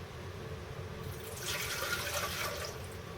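About two cups of warm water poured into a bread machine pan, a soft rushing splash that rises midway and runs for a couple of seconds over faint room noise, with no talking.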